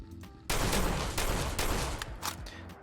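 A handmade shotgun fires at a Deathclaw in Fallout 4, with a string of loud, booming blasts in quick succession that overlap one another and ring out.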